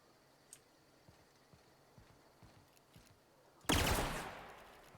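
Bolt pistol in The Outer Worlds: a single loud gunshot blast with a decaying tail, preceded by quiet ticking and faint clicks.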